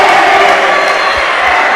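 A judo arena crowd at a European Open in Rome roars steadily for an Italian woman competing, a dense continuous wall of cheering and shouting close and loud throughout.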